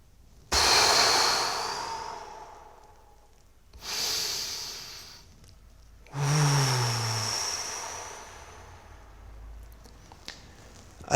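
Slow, deep breaths during a breathing exercise, heard close and alone: three long airy inhales or exhales, each swelling and fading over a couple of seconds with quiet pauses between them.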